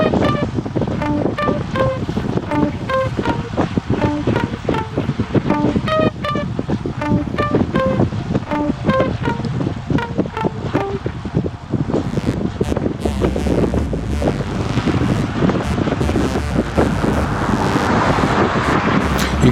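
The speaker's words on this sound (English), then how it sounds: "The wind's coming from in front and to the left" Strong wind buffets the microphone of a cyclist riding steadily on a road in a group, a continuous loud roar with gusting swells and no talking.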